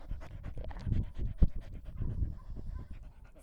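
Dog panting up close at an animal shelter, quick rhythmic breathy huffs with a couple of louder snorts, steady throughout with no talking.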